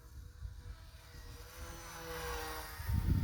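The electric motor of an XK A600 DHC-2 Beaver RC plane whines in flight outdoors on a breezy day. The steady drone rises in pitch as the throttle opens, over wind noise, and ends with a low rumble.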